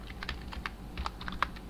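A computer keyboard clatters with a quick burst of light keystrokes, ending in a firmer single key press, close and alone without any talk.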